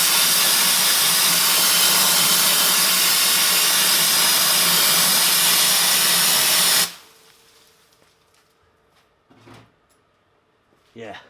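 A power sander with coarse grit stripping paint off a Hummer, grinding as a loud, steady hiss for several seconds before cutting off abruptly, leaving quiet shop noise and a brief voice.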